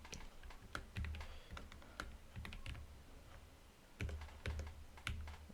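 Code being typed on a computer keyboard, quiet irregular keystrokes in quick bursts with heavier thumps now and then, close and steady with no talking.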